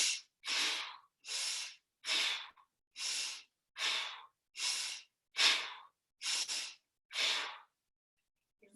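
Deep, steady breaths during an exercise class with weights, about ten strong breaths in a regular rhythm, close and clear, with each breath separated by brief silence.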